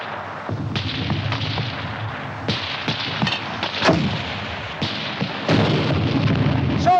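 Mortar and gun fire in a 1951 war film battle scene, a dense series of sharp blasts and booms with rumbling, some distant and some nearer, with no talk.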